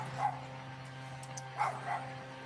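Neighbouring dogs bark in a few short, sharp yips, one early and two close together later, at moderate distance over a steady low hum.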